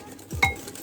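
A spoon clinking against a bowl while stirring cornmeal pudding mixture for Jamaican cornmeal pudding, a brief scrape followed by a single sharp clink, close up.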